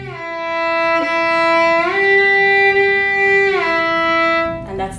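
Violin bowed on the D string in a shifting exercise: one long sustained tone that slides up to a higher pitch, holds, then slides back down, clear and close, alone.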